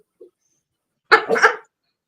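A dog gives one short bark or double huff up close, with a faint small sound just before, then silence.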